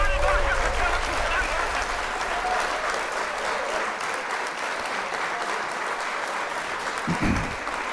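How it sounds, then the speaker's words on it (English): An audience breaks into a sustained round of applause, dense and loud throughout with a crowd-like wash of clapping and no speech on top. "Round of applause for both of y'all."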